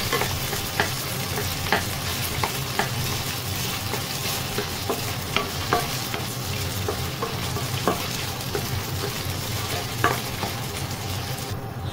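Chorizo fried dark brown in a pan for fried rice, sizzling steadily and loud up close, with repeated scraping taps of a spatula as it is stirred and broken apart throughout.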